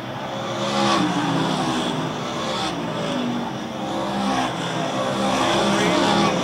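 Race cars roar through a lap at a short-track event, a continuous dense engine drone with rising and falling swells as cars pass, heard under steady crowd and announcer noise.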